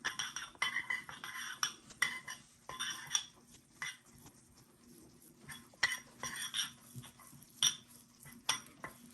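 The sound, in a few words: stirring nut and seed mixture with raw honey and flaxseed oil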